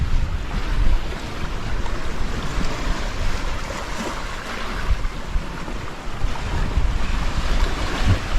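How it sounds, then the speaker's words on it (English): Ocean waves rush and surge around a fast-moving sailboat at sea, a loud, continuous wash of surf and spray mixed with wind buffeting the microphone, with no voices. "There's a good wave."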